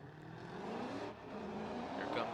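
Black and green BMW drift car ripping around the track at a Formula Drift Pro 2 event in Orlando, its engine a steady, loud roar that swells and dips with a commentator talking over it.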